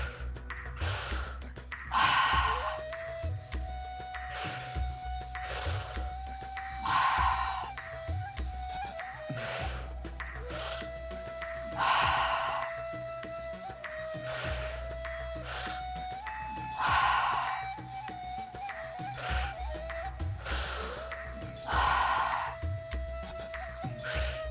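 Deep breathing during a breathwork meditation, with slow, rhythmic inhales and exhales roughly every five seconds, each breath audible and close, over a soft sustained musical drone.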